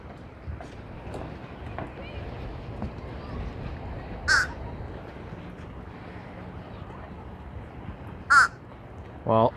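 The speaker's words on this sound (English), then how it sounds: "Look at these crows, they're so aggressive." Crows at a seaside pier in Fort Lauderdale, Florida, give a few loud harsh caws near the end, spaced apart, over soft outdoor background with a person talking.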